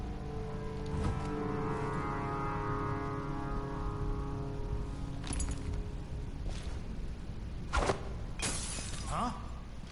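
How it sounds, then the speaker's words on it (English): Glass shattering in the video game Dishonored 2, a few sharp bright crashes and tinkling bursts late in the scene over a steady drone of game ambience and music. "That sounded like broken glass"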